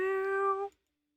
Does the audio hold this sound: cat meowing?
yes